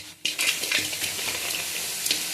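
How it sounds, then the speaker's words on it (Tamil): Dried prawns frying in a hot kadai and being stirred, a steady crackling sizzle with scraping strokes of the utensil against the pan, fairly close and with no voices. "கடாய் நல்லா காஞ்ச உடனே நம்ம வந்து க்ளீன் பண்ணி வச்சுருக்க இந்த இறாவெல்லாம்"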